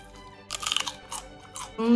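Crisp, crunchy bites of fresh tomato chewed up close during a raw vegetable meal with chili and cucumber, giving two bursts of wet crunching with quiet pauses between them.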